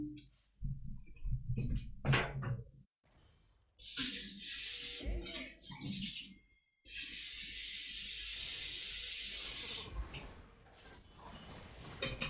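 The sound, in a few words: water tap filling a water bottle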